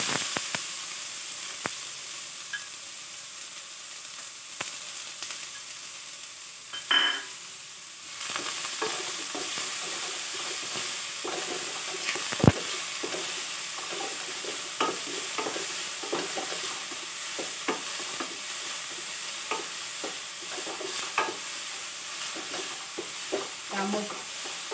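Finely chopped onions fry in hot oil in a pan in a home kitchen, with a steady close sizzle and hiss, occasional stirring clatter, and faint talk in the background.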